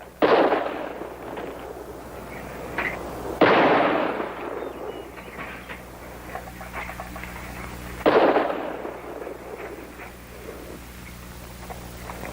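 Gunshots in a western film, three sharp loud reports spaced a few seconds apart, each trailing off in a long echoing decay over a low background hum.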